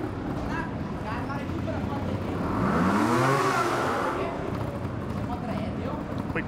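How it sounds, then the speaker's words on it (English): Trial motorcycle spinning its rear wheel in a quick drag-style burnout at an indoor X-Trial arena in Barcelona, a rising and falling engine rev swelling over steady crowd noise and commentary. "Quick burn out there, drag racing style to improve the grip on his rear wheel"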